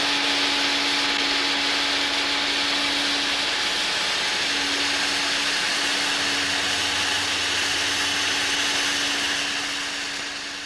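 A household vacuum cleaner runs continuously with a loud steady motor whine and airy rush, holding a constant drone before tapering slightly at the end.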